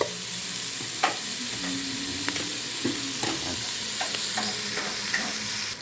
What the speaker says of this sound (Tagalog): Ayan, nasisig na yung balat.